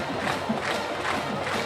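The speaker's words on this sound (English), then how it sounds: "we've got like I said before, a tremendous crowd" Large crowd packed into a high school football stadium for a Northview vs Dothan game, a steady dense roar of many voices without distinct cheers.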